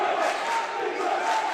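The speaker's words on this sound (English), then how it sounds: "Jason O'Neill in the crowd already getting riled up for both sides" A crowd at a high school basketball game between the Norton Lancers and the Norwell Clippers cheers and roars loudly and continuously, a dense wall of voices with no break.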